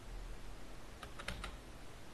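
Quiet typing on a computer keyboard, a short cluster of four or five soft clicks over steady background hiss.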